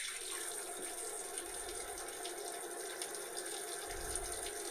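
Cold tap water pours in a steady, quiet stream, a constant hiss with faint splashing and no voices.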